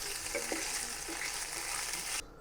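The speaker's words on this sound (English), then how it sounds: "You fry up some vegan meatballs or whatever this is" Vegan meatballs frying in a pan, a steady close sizzle and crackle with faint stirring scrapes, cutting off abruptly near the end.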